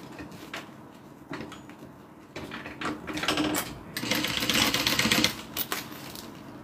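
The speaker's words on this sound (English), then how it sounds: "Alright, so now what I'm going to do is sew open my side seam" A sewing machine stitches a purse's side seam, with bursts of rapid mechanical clatter that grow louder and steadier over the last seconds, alone and close by.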